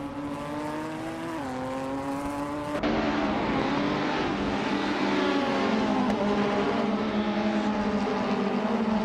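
Race cars in a racing video game, including a 2004 Audi A4, on the Interlagos Vintage circuit: steady loud engine drone with shifting revs and pitch sweeps, a sharp jump in intensity partway through, no talking.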